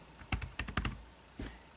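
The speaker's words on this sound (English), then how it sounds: "So you can see I was typing Android, typed it into the search box" Typing on the keyboard of an Asus Transformer Pad Infinity mobile dock: a quick burst of five or six close, crisp key clicks, a pause, then one more tap.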